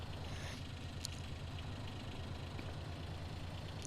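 Farm vehicle engine running as it drives up a field, a steady low rhythmic rumble with regular throbbing pulses throughout and a few faint clicks, continuous and fairly close with no talking.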